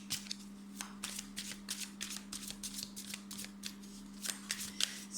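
A deck of cards is shuffled by hand in quick repeated riffles and taps, a rhythmic series of crisp rustling bursts over a steady low hum, close and fairly quiet.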